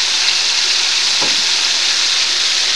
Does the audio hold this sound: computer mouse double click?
no